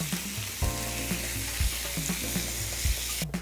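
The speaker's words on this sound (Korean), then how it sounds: "표고버섯을 먼저 볶고요" Shiitake mushrooms stir-fried in a hot pan sizzle steadily, with a few scraping stirs of a utensil against the pan, close and without talk.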